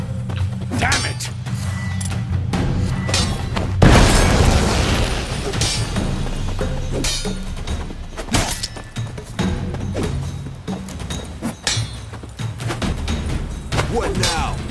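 A thrown bomb bursting in The Witcher 3: Wild Hunt, a loud thudding explosion midway through a stretch of combat thumps, whooshes and music, with characters talking around it.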